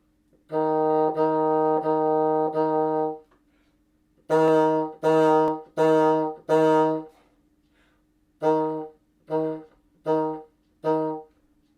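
A bassoon plays twelve repeated E flats on one pitch: four long sustained, four heavier accented and separated, then four short staccato ones with gaps between.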